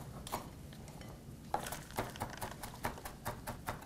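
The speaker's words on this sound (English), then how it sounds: "So I have some fresh parsley here, and I'm just giving it a chop." Fresh parsley chopped with a knife on a cutting board, quiet rapid knife taps in an uneven rhythm that settles into steady strokes, close up with no talking.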